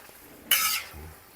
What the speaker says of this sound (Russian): Пока мы обжариваем морковочку.